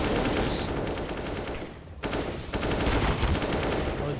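Rapid submachine gun fire from an MP9 in a competitive CS:GO match, a dense burst of shots that drops out briefly and then resumes loud, with a molotov fire nearby.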